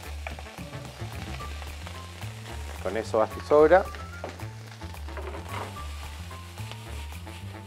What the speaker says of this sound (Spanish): este es el sonido que tiene que estar constantemente escuchándose, porque nos indica que el arroz está perdiendo su humedad